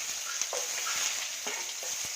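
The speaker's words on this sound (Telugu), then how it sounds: "2 స్పూన్స్ ఆయిల్ వేసుకొని సాసోలు వేసుకున్నాను. చిట్లిన తర్వాత ఆనియన్, పచ్చిమిర్చి," Mustard seeds, onion and green chilli frying in hot oil, giving a continuous close sizzle with light stirring scrapes and a few soft crackles.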